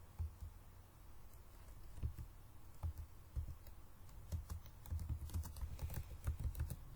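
Steady, rapid typing on a computer keyboard while entering text into MS Word, an unbroken run of close, crisp key clicks with occasional heavier strokes. No one talks.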